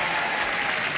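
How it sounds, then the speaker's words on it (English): A studio audience on a celebrity game show cheers and applauds, a dense, loud, sustained burst of clapping and whoops filling the whole moment. "I want to hear a loud cheer, folks."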